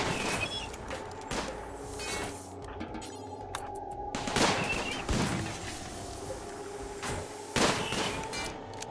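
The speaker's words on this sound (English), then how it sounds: "I'll just start shooting the ship" Gunfire in the colony-survival game RimWorld aimed at a crashed ship: sharp, loud shots in scattered bursts and single cracks, spaced irregularly over a quiet game background.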